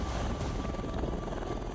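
An Air Force helicopter flying during a military exercise, a loud continuous rotor roar with steady throbbing, filling the whole stretch with no pauses.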